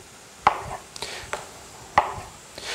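A sharp kitchen knife cuts the cores out of tomatoes, giving several crisp, close cutting strikes spaced irregularly over a few seconds, with no talking.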